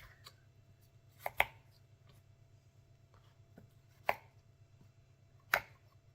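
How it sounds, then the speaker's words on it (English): A knife chops carrots on a cutting board in a few sharp, separate knocks spaced a second or two apart, close and clear over a low background hum, no talk. "Or you can just do it the traditional way and cut up the carrot like that."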